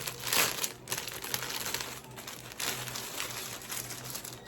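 Plastic packaging crinkling and rustling as a packaged black and white cotton dress is opened, continuous close crackling with a few louder crumples, no talk.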